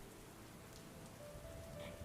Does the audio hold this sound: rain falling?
yes